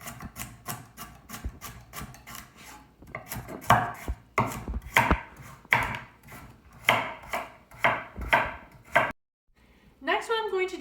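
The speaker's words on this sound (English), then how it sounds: "So I'm going to first cut the carrot that way, lengthwise, and then I'm going to give it a nice little chop." A knife chopping a carrot into small pieces on a cutting board, a quick run of sharp, evenly spaced knocks in bursts, close by, ending in a brief pause and a softer scrape.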